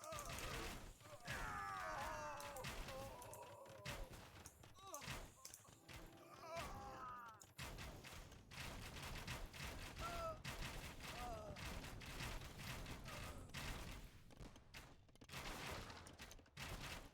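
Bombard cannons firing during an Imperial Age battle in Age of Empires, mixed into a dense clatter of combat with booms and thuds under steady commentary from a caster.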